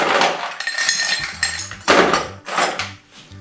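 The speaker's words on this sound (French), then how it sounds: "Je vais ajouter un petit peu de glace sur le verre" Ice cubes drop into a glass for a non-alcoholic orange cocktail, several bright clinks and clatters in quick bursts, close and loud, then tapering off.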